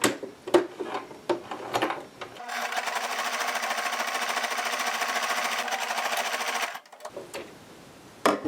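A sewing machine stitching down fabric for a homemade scrunchie, a loud steady mechanical whirr running about four seconds, preceded and followed by brief handling clatter and rustling.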